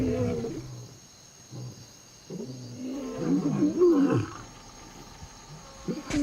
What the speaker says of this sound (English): A full-blooded roar only comes with adulthood.